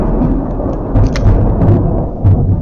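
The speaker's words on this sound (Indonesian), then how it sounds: "ada kilat, ada guntur" Thunder rolls in a heavy, loud low rumble, swelling in several booming surges over a couple of seconds with no voices.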